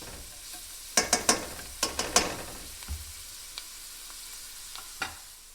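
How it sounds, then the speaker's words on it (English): Onion frying in a pan for a Mexican-style almond sauce, with a steady soft sizzle under a few sharp scrapes and clinks of stirring against the pan, no voices. "we're gonna fry this onion until it's translucent and a little bit start getting a little brown"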